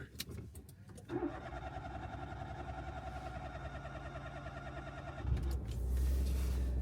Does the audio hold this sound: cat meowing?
no